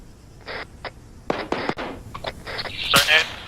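Bursts of gunfire in the military video game Arma 3, several sharp close shots spread over a few seconds, mixed with radio-style talk.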